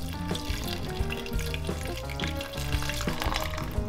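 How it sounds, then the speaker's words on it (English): Liquid gently poured over garlic and rice in a pressure cooker for beef plov, a continuous splashing, bubbling pour with faint sizzling underneath, steady and close by. "we'll just gently pour that like over the garlic, not to disturb the rice too much"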